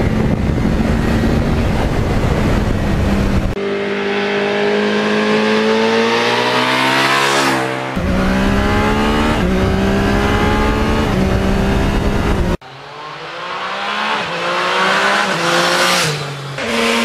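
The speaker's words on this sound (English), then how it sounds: "the one Karen got me for my birthday, my beloved MT-09" Yamaha MT-09 motorcycle riding and revving, engine notes sweeping up and down through gear changes in several loud passes, ending on a sharp rising rev, with no talk.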